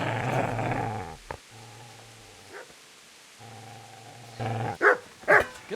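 A dog growls and barks in the medieval video game Kingdom Come: Deliverance, a low rumbling growl swelling between pauses and then two or three sharp, close barks at the end.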